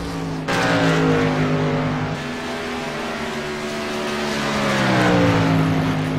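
A race truck drives around the track, its engine droning loud and close with rising and falling revs. The roar holds steady and swells again toward the end, with no talk over it.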